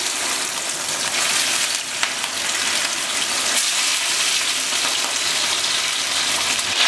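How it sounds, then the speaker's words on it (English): Salmon fillets sizzle in a smoking-hot pan, giving a loud, steady broadband hiss that runs without a break, close up and with no talking. "you can see the pan starting to smoke. Getting the salmon fillets in."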